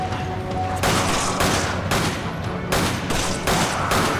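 Loud, continuous gunfire from Resident Evil 5 rattles in dense bursts with brief pauses, filling the whole stretch at close range.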